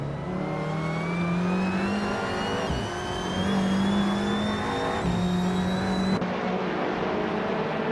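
A 2016 Audi TT Cup race car engine in a racing video game, revving hard and steadily, with pitch climbing through each gear and brief dips at the shifts.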